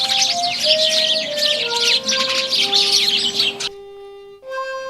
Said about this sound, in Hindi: हमारी नन्ही गौरैयों की आवाजें।